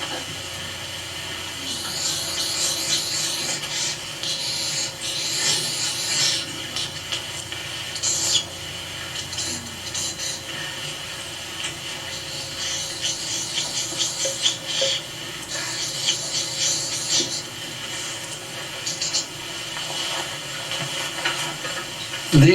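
A lecturer draws on a board during a 1994 lecture, producing bursts of scratchy, hissing strokes over a steady background hiss, with no talking while drawing.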